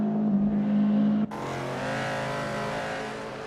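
A 1969 Chevrolet Corvette race car in a Group 3 racing video game roars steadily, a droning engine note that shifts abruptly partway through and holds on under a constant wash of track noise.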